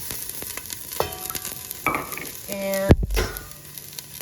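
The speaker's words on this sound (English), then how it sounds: "we are going to be adding some olive oil, and then we're going to be adding our onions" Onions going into hot olive oil in a cooking pot for chicken and rice, giving a steady sizzle with stirring and a clatter of utensils against the pot, close and fairly loud, with a brief spoken word.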